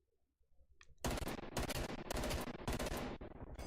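Heavy automatic gunfire erupts during a video game gunfight, rapid loud bursts hammering close after a second of near silence, continuing in clustered volleys with no talking.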